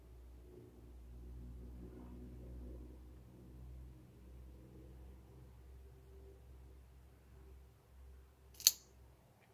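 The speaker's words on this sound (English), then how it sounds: "We have a COHIBA cutter, alright. So let's get this cut." A Cohiba cigar cutter snips a Cohiba Siglo 1 cigar in one sharp, brief click-cut near the end, heard close over a quiet low rumble with no voice.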